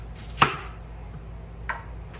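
A kitchen knife slicing sweet potato yams on a cutting board, two sharp, close chopping strikes about a second apart over a low background hum, with no talking.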